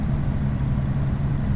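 A car engine in Farming Simulator 25 held at full throttle, a steady, loud, unbroken low drone that continues alone for the whole moment.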